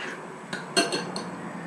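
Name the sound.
stirring liquid into granola mixture in a bowl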